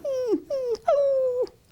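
A voice actor imitates the whining, crying of Sandy the dog from Little Orphan Annie: three drawn-out, falling whimpers in quick succession, close and clear with no other sounds.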